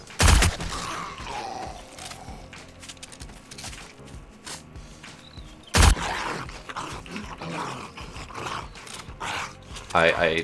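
An SMG in the zombie survival game 7 Days to Die fires three loud bursts a few seconds apart, with rumbling growls and scattered noise between them.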